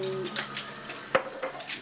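Dishwashing at a sink, with light clinks of plates and cutlery, short splashes and one sharper clatter of crockery, close by and moderately quiet over a low room murmur.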